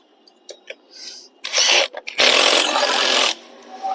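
Metal-on-metal scraping and ratcheting while a 19 mm nut is tightened on a Honda Livo or Twister motorcycle engine, coming in short rough bursts with one longer sustained stretch, close and fairly loud.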